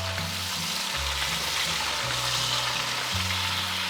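Eggplant and zucchini fry in a hot pan with a constant loud sizzle, and scraping stirring strokes run through it without any voices.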